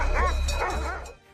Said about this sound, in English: It charges at the bear with unwavering resolve, snarling and barking.